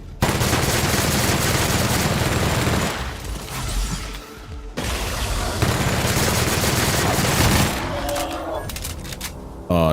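Sustained rapid automatic gunfire from a modified weapon in The Outer Worlds, loud and dense in two long bursts separated by a brief lull, with game sounds at the end.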